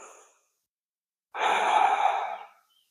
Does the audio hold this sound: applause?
no